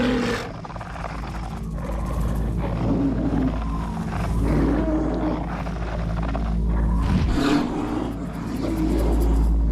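Two large male polar bears roar and growl in deep, sustained bursts, loud and close over a constant low rumble, with no talking.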